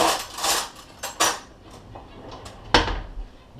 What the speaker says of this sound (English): Nice big spoon that I can get to the bottom and mix it around with.